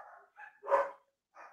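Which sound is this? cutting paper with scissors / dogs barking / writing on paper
dogs barking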